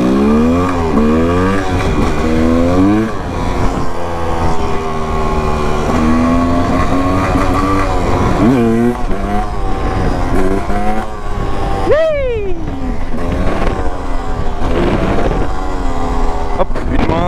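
A car engine revs hard and climbs in pitch after a clutch shift into fifth gear, loud and close as if heard from inside the cabin, with rising whine and a sharp rev change partway through.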